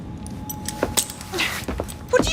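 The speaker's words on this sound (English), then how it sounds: "Now hand over your keys." A bunch of keys jangles briefly as it is handed over in Assassin's Creed Syndicate. The short metallic rattle sits over faint ambient street noise, with no talking.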